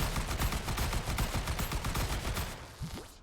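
Rapid, loud machine-gun fire from the guns of a recoil-powered plane in a video game, a dense unbroken stream of shots that cuts off sharply near the end, followed by a brief thump.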